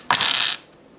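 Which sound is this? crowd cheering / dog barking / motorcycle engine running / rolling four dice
rolling four dice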